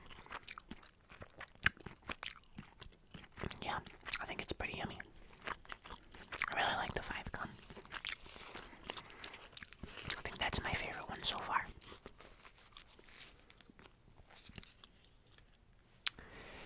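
Gum being chewed close to the mic in an ASMR-style comparison of gum brands such as Mentos and Trident, soft wet crunching and smacking bursts recurring under low whispered talk throughout.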